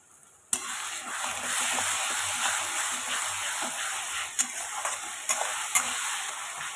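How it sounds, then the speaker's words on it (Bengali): A ginger, garlic, onion and chili paste fries in a pan for a chicken curry. A loud steady sizzle starts abruptly and holds throughout, with a few sharp clicks from stirring. "একটু মশলাটা একটুখানি ভাজা হতে থাকুক"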